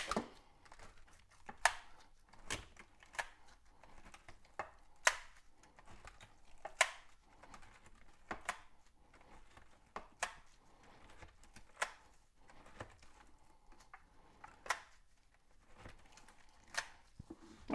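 A fork or skewer repeatedly poking holes into a raw London broil beef cut: quiet, sharp clicks and soft taps in an irregular steady rhythm, close up, with no talking.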